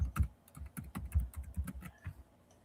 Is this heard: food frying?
no